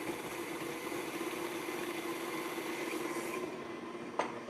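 An electric mixer blends egg into creamed butter and sugar for a red velvet cake batter, giving a continuous, even whirring hum throughout, with a brief knock near the end.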